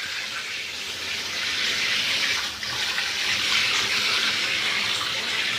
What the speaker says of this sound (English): I'm rinsing it out.